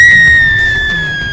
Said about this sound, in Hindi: कंचिता डर के मारे जोर से चिल्लाई।